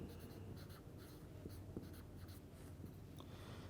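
A chemistry lecturer writes on a classroom board, making faint, scattered taps and scratchy strokes over a low room hum, with no talking.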